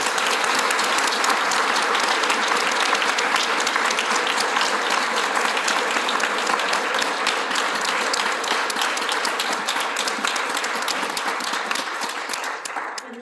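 Sustained applause from an audience welcoming a speaker to the opening of a retrospective art exhibition, dense steady clapping that fills the room throughout and eases off slightly at the very end.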